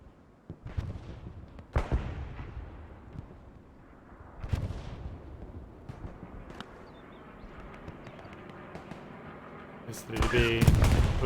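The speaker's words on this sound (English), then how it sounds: "Helios going down to tremendous suppressing tank fire there" Heavy tank cannon blasts and scattered gunfire boom through a multiplayer war game match, several loud separate explosions with echoing tails and a dense volley near the end, while a commentator talks over them.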